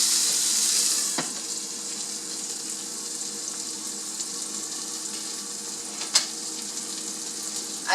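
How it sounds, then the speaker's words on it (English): Mushrooms sizzle in a frying pan on a stovetop, a constant close hiss that is louder at first and then settles lower, with a couple of sharp clinks breaking through the steady crackle. "The residual heat from the stove as well as the frying pan will continue cooking the mushroom"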